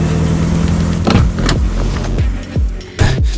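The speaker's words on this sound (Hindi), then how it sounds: "हे, गाड़ी रोको जरा।" A car comes to a halt. A steady engine hum fades out early, followed by a few scattered thumps and clunks close by.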